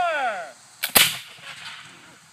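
New Jersey Continental soldier reenactors fire a volley of muskets outdoors, a sharp near-simultaneous crack with a brief scattered shot just before, then a fading rumble as a shouted command trails away beforehand.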